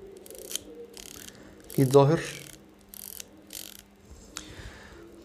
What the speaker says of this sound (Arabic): اكيد سامعين طبعا الصوت بتاع الرينج ده، الصوت انا بحب الصوت ده جدا على فكره